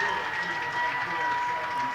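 Fans at a Pine Richland high school football game at Hempfield Stadium roar steadily from a distance, a broad sustained crowd din with a commentator talking over it.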